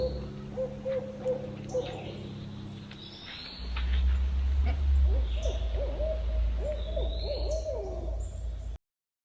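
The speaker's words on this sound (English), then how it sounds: "Here's the owls again." Owls hoot at night over a campsite at Gilson Pond in Monadnock State Park, New Hampshire: a soft, wavering series of calls, then a quicker run of repeated hoots over a low rumble. No one speaks.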